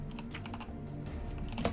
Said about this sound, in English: Apparently my typing is like thunder cracks in the distance